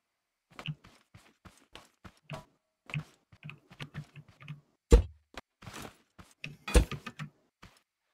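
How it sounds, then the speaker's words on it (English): Typing on a new, loud computer keyboard, with sharp clacking keystrokes in irregular bursts and a few heavier thumps, close up and with no talk. "this new keyboard that I got, is it older, is it louder than my other new keyboard that I shattered?"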